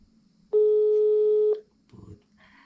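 A steady electronic telephone tone sounds once for about a second, loud and close, while a call is placed to Putri; a brief burst of speech follows after it stops.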